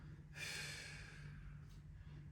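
Slow, audible breath during a kneeling yoga prayer twist, a soft airy exhale that swells and fades over a steady low hum, with a faint second breath near the end.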